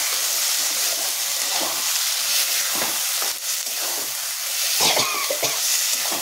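Shrimp heads ground to a paste are stirred into a Bengali fish curry in a hot pan, making a loud continuous sizzle and hiss with intermittent scraping stirs close by.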